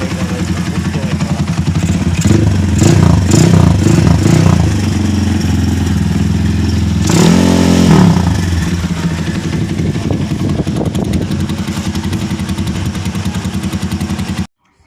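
A Sigma 250cc motorcycle engine roars loud and close, revving hard in surges and then holding a steady high drone before cutting off abruptly.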